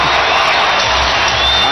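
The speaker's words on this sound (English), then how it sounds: "Listen to this crowd." A packed basketball arena crowd at a Houston Rockets game against the Chicago Bulls roars in a loud, dense, continuous wall of cheering that fills the whole moment without a break.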